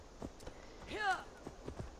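Horse hooves clip-clop in Assassin's Creed Valhalla: a few sharp, spaced hoof strikes on hard ground, close by, with someone talking over the middle.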